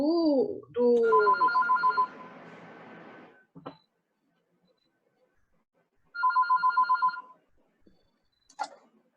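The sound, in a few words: telephone ringing from an open microphone in an online class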